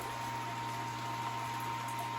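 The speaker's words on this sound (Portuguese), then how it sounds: "Está aqui em recirculação para aquecimento." A pump recirculates 12 litres of mash water being heated toward 70 degrees for a homebrewed grape braggot, giving a steady bubbling, churning liquid hum with a constant electrical tone.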